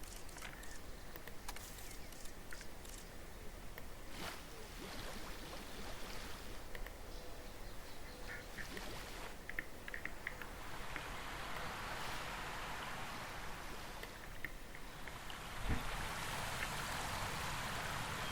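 A waterfall in the dinosaur park game Jurassic World Evolution 3: continuous rushing, hissing water noise filling the whole stretch, steady and close, with scattered small clicks and chirps over it.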